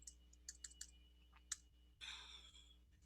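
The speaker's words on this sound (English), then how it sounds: "If I can type." Fingers type on a computer keyboard at a home desk, a quiet run of crisp separate clicks over a low hum, then a brief breathy rush of noise.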